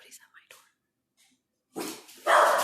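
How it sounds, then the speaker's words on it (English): Guard dogs burst into loud, rough barking at someone at the front door, breaking in abruptly after a few soft whispered words and growing louder and more continuous at the end. "The ferocious guard dogs are all over it"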